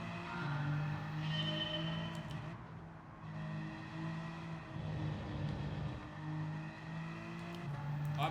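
A rear-wheel-drive race car in Gran Turismo 7 drones steadily up close, its engine note rising and dipping through gear changes with no talk over it.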